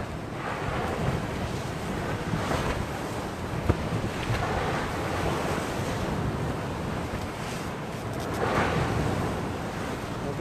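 Wind gusts across an open shoreline at high water while waves wash and break steadily, a continuous loud rushing surf with buffeting on the microphone and surges that swell and fade.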